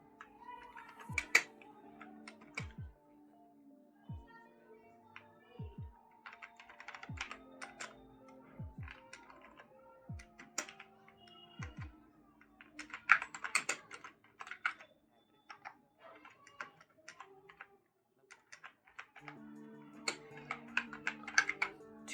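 Someone types an address on a computer keyboard in short bursts of fast, close key clicks separated by pauses, with a few sharper single taps and faint low background sounds between the bursts.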